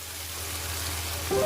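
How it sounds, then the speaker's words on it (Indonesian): Steady close sizzle of ground chili and tomato with spices sautéing in a pan, an even frying hiss that brightens slightly at the end. "Aduk-aduk, tumis sebentar sampai cabai dan tomat sepertujuh matang."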